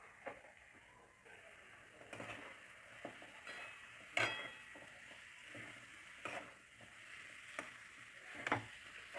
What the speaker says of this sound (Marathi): आता आपण हे आपले फळं कट केलेले याच्यामध्ये टाकून घेऊ